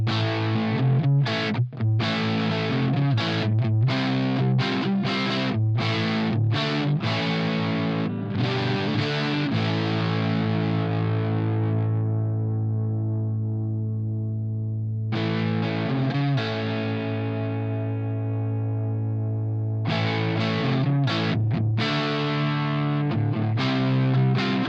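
Distorted electric guitar played through a Blackstar Jared James Nichols amp plugin, with loud chugging riffs and choppy stabs, two long ringing chords left to decay, then the riffing returns.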